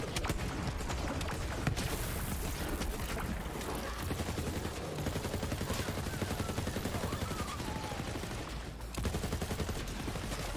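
Gunfire from Zane's clone in Borderlands 3 rattles continuously, rapid and dense bursts at steady moderate level with game sounds mixed in throughout.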